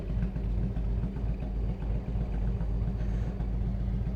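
Harley-Davidson Road King Classic motorcycle with straight pipes and fishtail exhausts rumbling steadily while riding, a deep, continuous, loud pulsing drone with no break.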